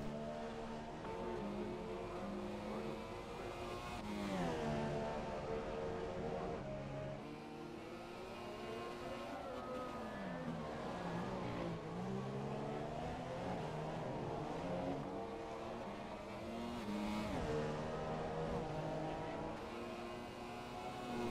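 A Renault F2 car engine on a flying lap in the F1 2017 racing game, holding a loud, continuous whine that climbs and drops through repeated gear changes and braking zones, with no talking.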